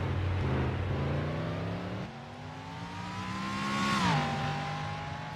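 A GT Daytona race car sweeps past on a circuit, its engine note climbing through the gears and then dropping in pitch as it goes by, loud and close with a steady drone throughout.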